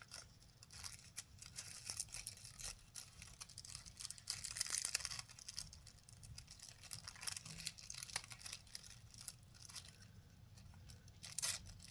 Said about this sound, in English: Literally, I'm just pulling it off of the paper, off of the little glue dots.